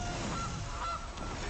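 A goose honk sound effect from the card game MTG Arena, two short nasal honks over a steady hiss of background noise.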